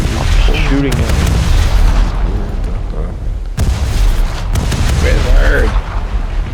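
Rapid gunfire and booming blasts from a video game firefight rattle on continuously at close range, with a player's voice talking over the loud, dense barrage.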